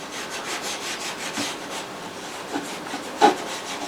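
Oil paint brush tip stroked along canvas for a bright blue-white crashing wave seascape, giving soft repeated rasping strokes, faint and close, with a slightly sharper scrape near the end and no talking.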